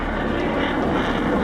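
MiG-29 fighter jets fly over Yemen with a dense, continuous engine roar that stays loud and steady for the whole moment, without any audible speech.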